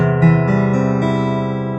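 Low open E string on an acoustic guitar, plucked and ringing alone with strong harmonics, a few note changes or re-attacks in the first half second before it sustains and slowly decays.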